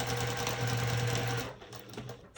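A sewing machine runs steadily and close by, stitching over a small purse flap made from fabric scraps, then slows and reverses in shorter bursts near the end.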